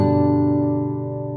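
A single guitar chord rings out with the third finger on the third fret of the B string, sustaining steadily and slowly fading over about a second and a half, loud and close with no talk.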